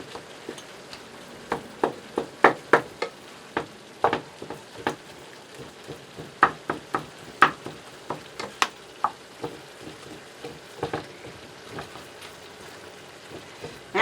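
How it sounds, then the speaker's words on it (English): Ground beef fries in a pan, giving steady crackling sizzle punctuated by frequent sharp pops and spatters at an uneven rhythm, close and moderately loud with no talking, as meat cooks for crunchwrap filling. "Actually glad the ground beef is cooking faster first"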